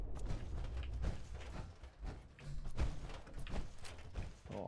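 A working sliding door in Fallout 4 creaks and grinds open with mechanical clunks and thuds, a fairly quiet, uneven rumble lasting several seconds without speech.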